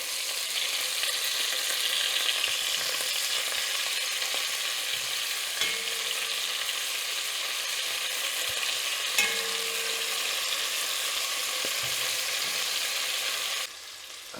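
Steady, loud sizzling of beef pieces browning in a hot pan for beef bourguignon, a continuous frying hiss with occasional soft stirring clanks, then easing slightly at the end.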